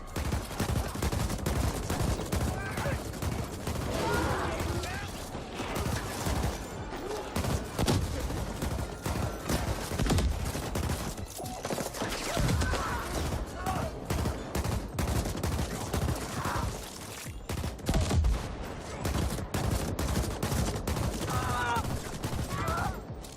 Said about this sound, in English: This is a cool gun, the ABR Commander.